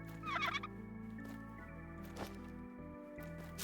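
A chicken in a video game gives a brief gobbling cluck over a steady hum of game background sound, followed by faint clicks and thuds.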